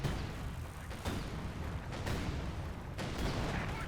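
Gunfire rattles through a Company of Heroes 2 online battle, with several sharp shots and bursts standing out over a constant rumbling din of combat.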